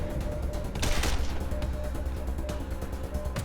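Sidearm gunfire in the video game Wasteland 2, heard as a loud burst of shots around the one-second mark over a dense, steady background of battle noise, with a few fainter pops afterwards.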